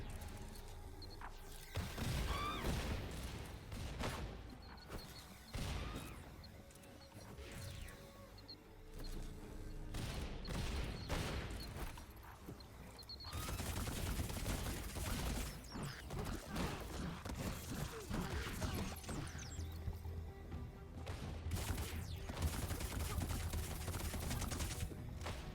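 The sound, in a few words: bombs exploding during a boss fight in the video game Funko Fusion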